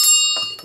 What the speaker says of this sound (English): A ritual bell.